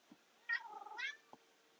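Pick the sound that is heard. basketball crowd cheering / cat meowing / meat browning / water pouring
cat meowing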